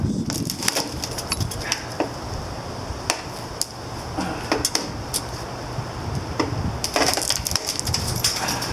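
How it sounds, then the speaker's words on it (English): Broken glass and leftover tape being scraped and cleared off a Ford E250 Econoline van, with scattered sharp crunches and gritty scraping taps, close and irregular, no talking. "Now I'm trying to get all this glass and tape off of the van."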